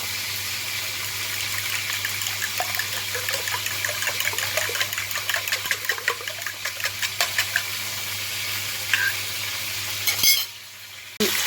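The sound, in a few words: whisking eggs with salt and black pepper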